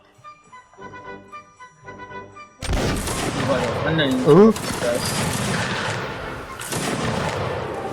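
Musket volley fire in a Mount & Blade battle with Prussian line infantry: a sudden loud burst of massed gunfire after a quiet start, rolling into sustained crackling shots, with someone speaking briefly over it.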